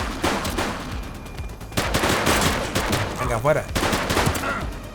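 Rapid gunfire from shooting in The Precinct police video game, loud bursts of automatic fire repeating across the clip with short gaps, with someone talking over the shots.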